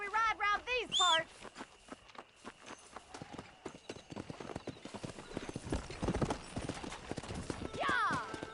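Horses gallop in the video game Red Dead Redemption, a rapid clip-clop of hooves with a whinny at the start and another near the end, while voices talk over the riding.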